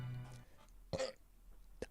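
A short burp-like vocal burst in a casual podcast setting, a single throaty eruption near the middle followed by a brief smaller one, close and moderately loud with no talk over it.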